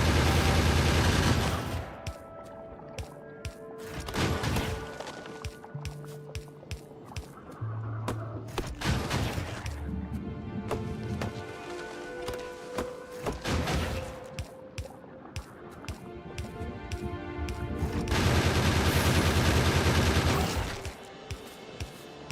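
Gun turrets in Factorio fire steadily at medium biters attacking a biter base, rapid fusillade bursts rising and falling over the full stretch, loud and close, with short gaps between volleys.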